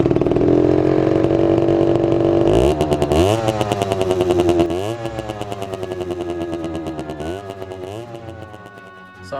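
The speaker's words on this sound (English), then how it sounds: "This is my Rieju MRT 50" A Rieju MRT 50 motorcycle's small two-stroke engine idling and then revving in repeated blips, a close, buzzy, rapid popping rhythm that rises and falls in pitch and fades slightly toward the end, with no talk.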